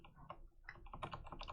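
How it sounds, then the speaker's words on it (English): Rapid series of soft clicks from on-screen text appearing and vanishing in the video game ECHO, quiet and close, with short irregular bursts and no talk. "I guess it's making clicking noises when it disappears."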